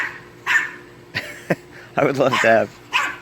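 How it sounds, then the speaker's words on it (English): A neighbor's dog barks and yips in short separate bursts, a few sharp calls spaced across the moment, mixed with a person talking nearby. "My neighbor dog is trying to get the attention of my dogs."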